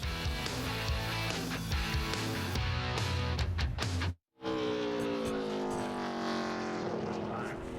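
A NASCAR Nationwide Series race car roars at full throttle around Memphis Motorsports Park during 2009 qualifying, loud and close, cutting out briefly before the engine sweeps back in with a shifting pitch.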